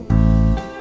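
A bass line strikes a single sustained root note A, one loud low tone that holds for about half a second and then decays, with no voices.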